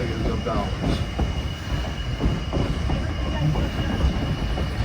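A Virginia and Truckee railway train rolls along with a steady, loud rumble of wheels on track and a faint squeal, heard from on board as a continuous rushing noise.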